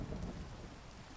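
Minecraft thunderstorm in the ATM9 modpack, a low rolling rumble of thunder over a constant hiss of steady rain, loud and continuous with no voices.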